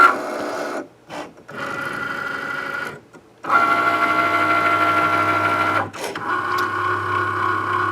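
A Cricut cutting machine traces around a printable vinyl sticker made on an inkjet printer, giving a loud, buzzing motorized whir in bursts broken by short pauses as the carriage stops and restarts.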